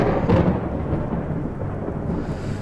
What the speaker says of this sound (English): all of you hear what sounds like the cracking of thunder